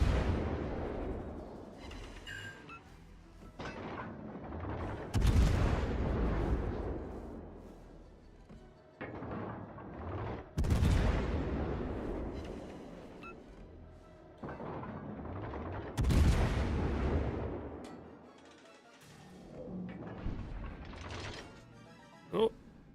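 In a video game, an enemy fires its weapon again and again: four heavy booming blasts land at regular intervals, each decaying into a long rumbling tail with mechanical clanks and creaks in between.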